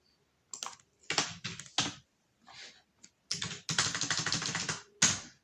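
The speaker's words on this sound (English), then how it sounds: "So let's just type it." Computer keyboard keys clatter in quick bursts of typing, close and crisp, with short pauses between runs of clicks.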